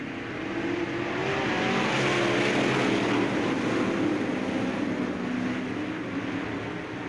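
A pack of sportsman race cars roars off at the start of a race at Bureau County Speedway, a steady, wide engine rumble that swells and holds at a distance throughout.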